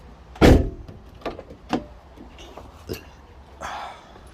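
A front door on a 2002–06 Nissan Altima swings shut with one loud, close slam, and then a few fainter clicks and knocks from the latch and door panel follow.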